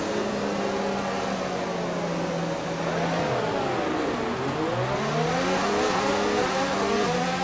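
F1 race car engines roar together at a race start in the F1 2019 video game, a loud continuous whine that dips and then climbs steeply as the cars pull away, with no talk over it.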